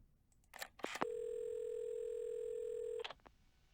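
A steady telephone dial tone from the video game Assemble with Care, holding for about two seconds between brief clicks and rustles of the receiver being handled, clear and alone.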